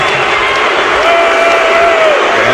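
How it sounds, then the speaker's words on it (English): A dense, loud crowd roar fills a basketball arena during a 2006 NBA playoff game as Steve Nash comes back onto the court. A sustained vocal tone rises through the middle that could be booing, and a commentator speaks over it. "Heard some boos from the crowd as he re-enters"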